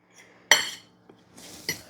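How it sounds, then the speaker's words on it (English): A fork clinks against a dish while blending flour for breading pork tenderloin: one sharp metallic strike, then softer scraping and a few more light clinks, close by with no talk. "let's get another fork to blend up our flour."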